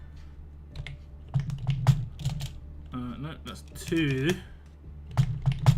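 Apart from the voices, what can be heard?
typing on a computer keyboard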